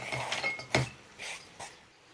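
Whole hazelnuts tumbling into a bowl, heard as a few close, bright clinks and rattles spaced over a couple of seconds with no talk.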